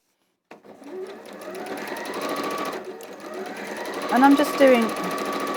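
A sewing machine runs steadily while stitching random zigzags, its motor whirring continuously beneath a voice as she talks over it, rising slightly louder toward the end.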